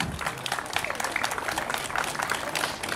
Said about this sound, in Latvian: Aplaus Kristapam Zaļajam!